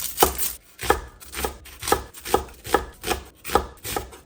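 A knife chops onions into bulky pieces on a cutting board, about nine steady, evenly spaced strokes, close and crisp with no talk.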